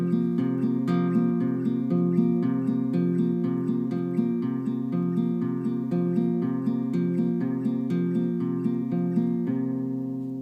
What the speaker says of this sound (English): you can add in your pointer finger, which is going to be on the G string, and it's going to sound like this.